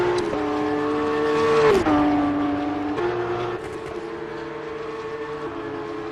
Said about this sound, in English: Basil is still thrashing the car around the track as fast as he can